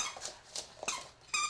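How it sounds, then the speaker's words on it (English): Puppies being trained as service dogs give several short, high whimpers and squeaky yelps close by, coming in quick bursts with brief pauses between them. "these puppies will be pressed into service"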